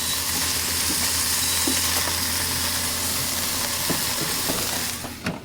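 Meat sizzles steadily in a hot pan after being flipped, a close, continuous hissing crackle with a few soft knocks and clinks, ending with a brief clatter and no voices.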